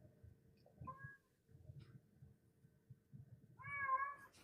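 Domestic cat meowing indoors, a couple of short quiet mews early on and a longer, louder meow at the end over low background murmur.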